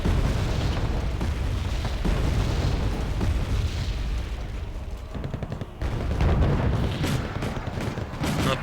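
Tank shell explosions and battlefield gunfire in the Wargame Airland Battle video game, a dense continuous barrage of loud booms and bursts with a brief lull before the rumble resumes.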